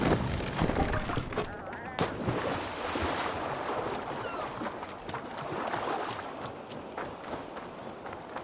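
Viking longship under sail on the sea in Assassin's Creed Valhalla, steady rushing waves and wind filling the whole stretch with water splashing against the hull and faint in-game voices beneath.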